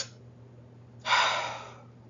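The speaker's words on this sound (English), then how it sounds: "you have them quickly breathe in" A quick, forceful breath in through the mouth, one sharp rush of air lasting under a second that fades out, heard close and alone as part of a panic-calming triangle breathing exercise.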